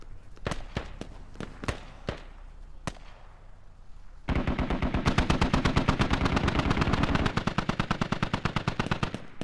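Gunfire in the video game Squad: a few scattered single shots, then a sustained rapid burst of automatic fire that rattles on loudly for several seconds.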